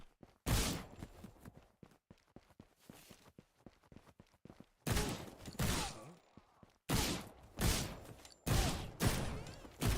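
Gunfire from shooting enemies in an indie video game under development: loud sharp bursts of shots, some in quick clusters, separated by rapid patter like running footsteps, with no voices heard.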